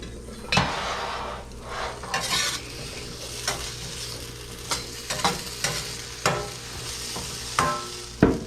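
Potatoes frying in oil or butter in a pan, sizzling steadily while a utensil stirs and scrapes them, with repeated sharp clinks and scrapes against the pan at irregular intervals, close and fairly loud.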